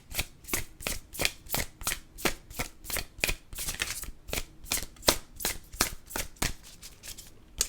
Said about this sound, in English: Now we're going to pull some oracle cards to close out your reading.